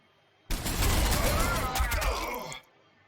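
Assault troops open fire in the Warhammer 40,000: Sanctus Reach video game, a loud dense burst of gunfire lasting about two seconds that starts abruptly and cuts off, with no talking over it.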